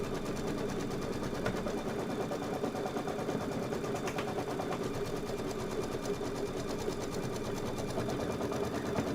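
An embroidery sewing machine stitches out a placement line, a steady continuous whirring hum with a fast rapid needle rhythm running throughout, close and even in level.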